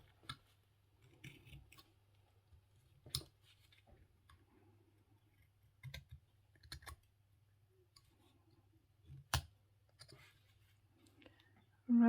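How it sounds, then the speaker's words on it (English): Knife slicing and carving into a small wooden fox during whittling, heard as sparse, quiet dry clicks and short scraping cuts spaced irregularly over a low steady hum. "I'm going to do the slicing cut, right, and then carve up to that cut"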